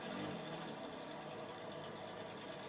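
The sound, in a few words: Hudson Hornet engine idling in a Corvette, from video game Forza Horizon 4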